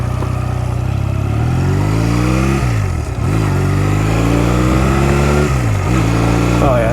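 Honda Rebel 250 motorcycle, left sitting for eleven years, revving hard while riding, its engine note climbing in steady pulls and dropping sharply at each gear shift, loud and close throughout.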